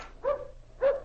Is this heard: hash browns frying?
no